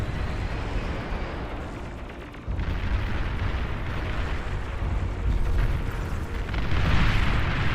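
A commander unit explodes in a real-time strategy game, a sustained low rumbling blast that swells after a short dip and keeps roaring loudly through the clip, with no voices.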